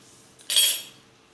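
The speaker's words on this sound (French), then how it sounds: "je vais couper juste en deux pour faire une tresse" A knife slices through pastry dough in a single brief, crisp stroke with a metallic scrape, cutting a strip in half to braid around a tourte; close and fairly soft, alone.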